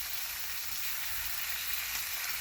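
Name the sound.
bacon grease sizzling in new cast iron pan on woodstove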